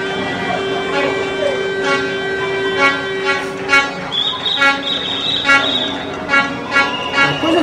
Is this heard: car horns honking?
yes